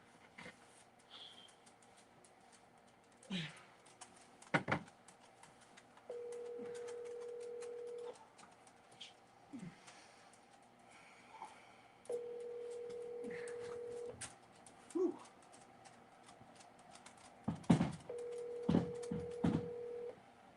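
A cell phone number is dialed on a telephone: scattered clicks and handling noises are followed by long steady keypad tones, then a quick run of short tones near the end, all at a quiet level.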